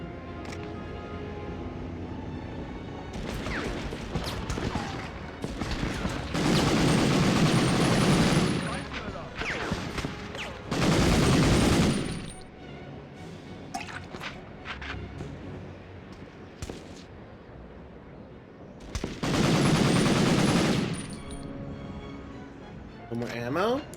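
Bursts of rapid video-game gunfire, several sustained loud volleys spread through the stretch, with crackling shots and someone talking in between.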